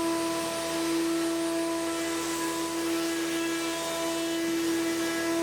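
An AXYZ APM 8010 Twin Y CNC router with two routing spindles cutting sheet material gives a loud, steady high-pitched whine with a constant tonal drone that holds throughout.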